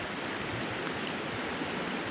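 Water from a stream pours fast into a filter bag, a steady close hiss and gurgle that holds constant throughout.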